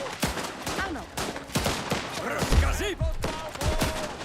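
A video game shootout fills the space with dense, continuous bursts of gunfire and rattling impacts, layered with warbling game voices and effects.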